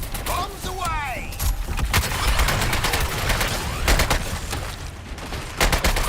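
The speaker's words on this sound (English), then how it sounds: "I'm shooting with deadshot" Dense, continuous gunfire from Deadshot in the video game Suicide Squad: Kill the Justice League, with rapid shots and booms over loud game effects and a player talking.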